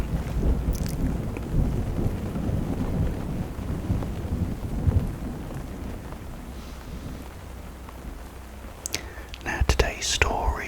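Steady rain pours through a stormy night, with deep rumbles of thunder rolling underneath and a few sharp cracks near the end; a soft voice whispers over it.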